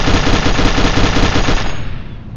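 A Gatling gun firing in the 1896-era strategy game Noblemen: 1896, a loud, close, rapid stream of evenly spaced shots that stops abruptly and rings out briefly.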